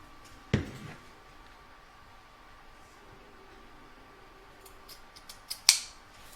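Scissors snipping along a line of fabric, two sharp crisp cuts separated by a long quiet stretch, with a few small rustles before the second snip.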